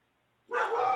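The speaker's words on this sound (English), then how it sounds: "dog is barking" After a moment of silence, a dog barks once, loud and close. The bark lingers as a brief harsh yelp.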